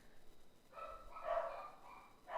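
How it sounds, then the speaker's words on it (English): Dogs howling and whining faintly in the background of a home room, a couple of rising, wavering cries that swell and fade, thin and distant with no talk over them. "it wouldn't be a stream without my dogs howling at least once."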